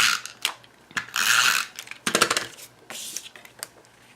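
A Stampin' Up Snail adhesive roller applicator is run across Tutti Frutti designer series paper, giving close, crisp ratcheting clicks and rolling bursts in several quick passes with short pauses between them.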